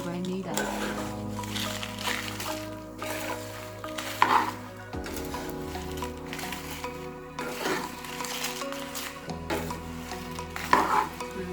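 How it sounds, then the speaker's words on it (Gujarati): Spice masala roasting for garlic chutney in a kadai over low heat, giving a soft sizzle with repeated scraping stirs, while a person talks over it. "જો આ બધો મસાલો હવે શેકાઈ ગયો છે."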